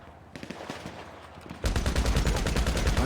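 A combat MG machine gun in GTA Online opens up with a rapid, sustained burst of loud shots after scattered quieter gunfire and brief voice sounds.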